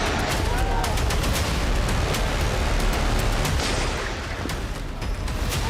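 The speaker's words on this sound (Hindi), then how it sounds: "पीओके यानी पाकिस्तान के कब्जे वाला कश्मीर, जिसमें मुनीर की फौज गोलियां बरसा रही है" Loud rapid bursts of gunfire from army troops in Pakistan-administered Kashmir, dense and continuous, with sharp repeated cracks over a rumbling noisy background.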